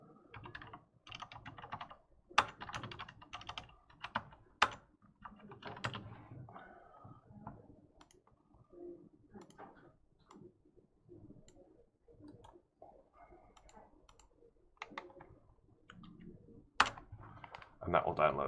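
Computer keyboard typing to create a directory, bursts of quick key clicks with a few sharper taps, close and fairly loud, a voice speaking in places between the keystrokes.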